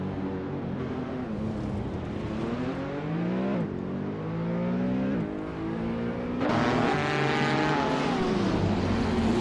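Several racing cars duel nose to tail in a racing video game, one a 2019 BMW M8 GTE, their engines loud and continuous with rising and falling revs and overlapping pitches as they shift gears.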